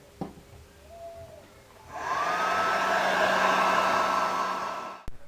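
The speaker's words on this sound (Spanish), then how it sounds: "Al utilizar el blower en la fuente de poder" Electric blower roaring steadily for about three seconds as it blows dust out of a computer power supply, starting after a few small clicks and cutting off with a sharp knock.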